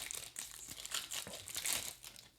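A Wilds of Eldraine booster pack wrapper crinkles and crumples as it is torn open, a close, continuous papery rustle with sharper crackles, no voices.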